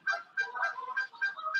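Canada geese give a quick run of several nasal honks in a fast, uneven rhythm, fairly close and clear, with no talking over them.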